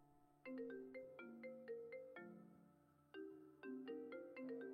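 A phone rings with a bright melodic ringtone, repeated chiming tones in rising and falling phrases that pause briefly near the middle and then resume, loud and close with no talking.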